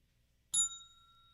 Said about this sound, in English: Just had to ring the bell for you.